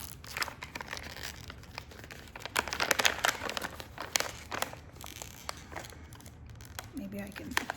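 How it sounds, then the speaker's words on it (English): A plastic bag from a Dollar Tree purchase is torn and crinkled, with repeated sharp rustling crackles and tearing bursts close up throughout, briefly under a voice near the end. "Why do they make these darn bags so hard to open?"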